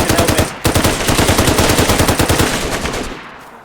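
Rapid automatic gunfire in the video game DayZ, a loud, dense string of shots with a brief break before the burst resumes and then trails off.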